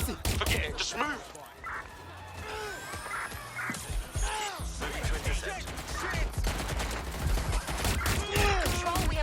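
Gunfire breaks out in Watch Dogs: Legion as a volley of sharp shots and crashes crackles repeatedly, mixed with shouting voices and scattered impacts throughout.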